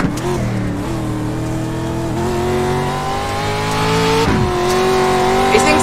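Dirt truck in the iRacing sim, engine revving loudly with rising and falling pitch through gear changes and a brief tire squeal, continuous and close.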